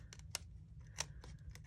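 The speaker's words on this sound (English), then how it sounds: "I'm going to take my scissors now and I'm going to trim the acetate" Scissors snip through a clear acetate sheet on a handmade card, a few quick, crisp cuts close by and quiet.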